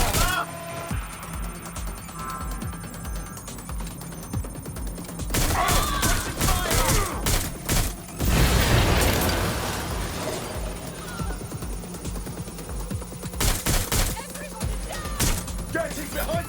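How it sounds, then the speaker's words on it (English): Gunfire in the video game Watch Dogs: Legion: rapid clusters of shots crack through a dense, busy game soundscape, with heavier bursts coming in waves and voices talking throughout. "Shots fired! Shots fired!"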